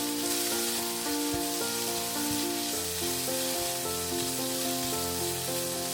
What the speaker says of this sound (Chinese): 再加入鸡肉， 中火煸炒至鸡肉上色